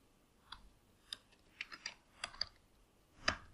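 Sparse, crisp keystrokes on a computer keyboard, about nine separate clicks in an uneven rhythm over a quiet room, faint and close, ending with a slightly louder clustered tap.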